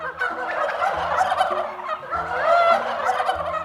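Turkeys gobble loudly and close by on a goose and turkey farm. Several overlapping warbling gobbles fill a few seconds with no talking.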